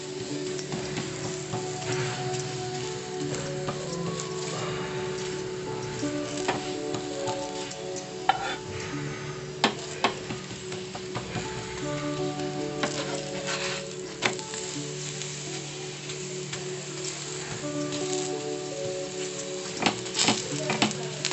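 A radish paratha roasting with oil on a hot griddle gives a continuous close sizzle, with occasional sharp clicks and scrapes of a spatula turning and pressing it, and no one talking.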